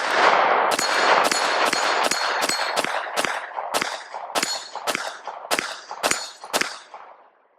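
A Palmetto State Armory Dagger Micro C-1 pistol fires about thirteen sharp, loud shots outdoors in a steady, unhurried rhythm, each crack followed by a short ringing echo that fades after the last round.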